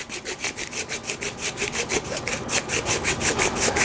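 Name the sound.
grinder twisted to grind compressed dense nugs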